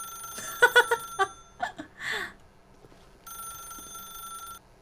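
A telephone rings in The Stanley Parable video game: a few sharp electronic rings in a quick burst, then a steady ringing tone that holds and fades, with no talk over it.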